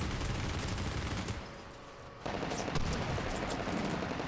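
Gunfire in Medal of Honor Warfighter on PS3, dense, continuous automatic shooting and explosions with a short lull in the middle, loud and close.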